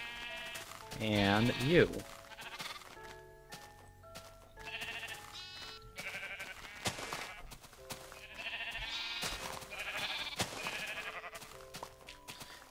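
Sheep in a Minecraft wool farm bleat in a loud burst early on, then fainter bleats recur over game music and someone talking.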